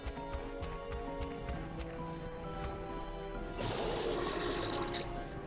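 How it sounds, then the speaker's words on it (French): In the video game Ratchet & Clank, a rushing, gurgling suction surge of water swells partway through over steady game music and footstep-like thumps, loud and sustained to the end; no talking. "Donc là, j'aspire l'eau d'ici."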